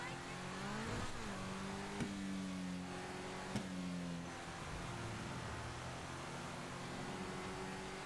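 Car driving in GTA Online, a video game engine droning and revving through gear shifts, with occasional sharp knocks and steady background noise, no talk.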